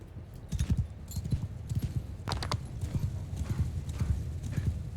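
Horses gallop in a Mount & Blade II Bannerlord battle, with a steady, heavy clip-clop of several hooves drumming close and loud through the whole stretch, plus a brief whinny.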